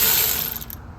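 A Milwaukee power tool turns the screw of a strut spring compressor on a Honda Civic X front strut, making a loud, steady mechanical whir that cuts off abruptly near the end.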